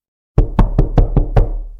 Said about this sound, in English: there was a sharp rap at the door